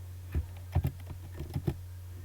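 Keys tapped on a computer keyboard for a Ctrl+V paste shortcut: a handful of close, light clicks at irregular intervals over a low steady hum.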